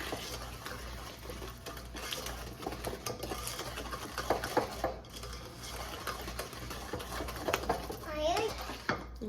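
A spoon steadily stirs cookie batter in a bowl, with soft scraping and clinking against the sides and busy kitchen noise, while a child and an adult talk over it.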